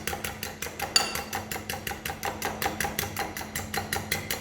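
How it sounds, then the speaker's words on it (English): Scrambled egg mixture being whisked in a bowl makes a steady, rapid series of light clinks and taps, several per second, at a moderate level with no talking. "And then I think Aisha's about to stir again as she did before."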